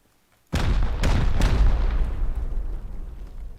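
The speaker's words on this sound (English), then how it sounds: "Next, next we shoot rockets here to destroy it, 4 in total." Rockets fired to destroy a building in a video game set off three quick, heavy blasts in succession. They merge into a long rolling rumble that slowly fades.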